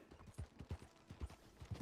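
Horse hooves clip-clop in Red Dead Redemption 2, a steady rhythmic series of soft, close footfalls from a horse named Clouds heading toward Saint Denis, with no one talking.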